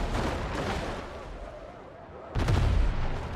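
Gunfire and explosions in the strategy video game Beyond All Reason, with steady rumbling fire building into a louder, booming burst near the end.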